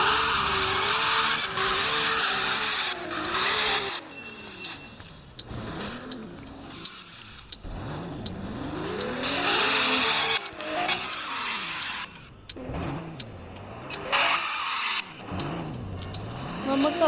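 A car drifting with tires skidding and screeching in long sweeping arcs, the engine revving and falling with each slide, loud and close throughout with brief lulls between passes.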